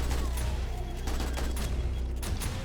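An automatic turret in the video game 7 Days to Die fires dense rapid volleys, loud and continuous, mixed with clanking mechanical game noise and no talking.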